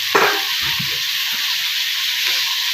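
Dry chili powder tipped into a hot frying pan for a brinjal (badanekayi) dish, setting off a steady, loud sizzle and hiss that fills the clip, with a few soft stirring clatters near the start.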